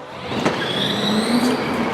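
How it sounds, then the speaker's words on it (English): An ATV fitted with a Dewalt or Milwaukee battery conversion kit running at full speed, giving a steady close electric motor whine with a rising tone that climbs in pitch across two seconds. "Never heard an ATV sound like a sports car"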